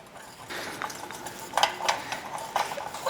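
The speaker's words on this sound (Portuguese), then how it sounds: "E misturar com uma colherzinha de pau." A small wooden spoon stirs melted wax and pigment in a pot, making soft scraping and light knocking taps that grow a little louder near the end, with no talking.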